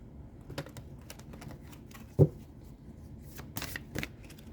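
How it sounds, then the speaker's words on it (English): Tarot cards for a Libra reading are shuffled by hand, giving soft papery riffles and taps with scattered sharper slaps and a louder thump midway, quiet and close with no speech. "we're going to pull some cards"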